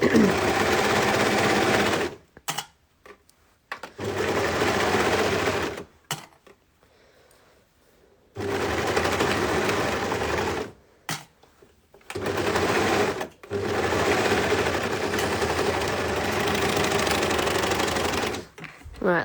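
Home sewing machine running in long continuous bursts while stitching the seams of a baby's long-sleeve tee, loud and close, with quiet pauses between runs.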